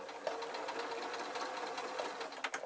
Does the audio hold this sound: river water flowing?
no